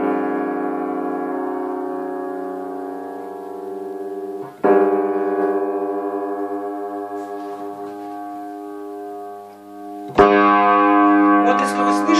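Two piano strings sound A-flat in unison while an upright piano is repaired with a corrugated-cardboard shim and its original tuning pin is pressed back in. The note is struck three times, loud and ringing, and each strike decays slowly with no talk over it.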